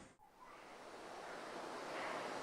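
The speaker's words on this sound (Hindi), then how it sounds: "भागीरथी नदी में।" Steady broadband rush of the Bhagirathi river flowing at Gangotri, a continuous roar of water close by that swells slightly louder toward the end, with no voices.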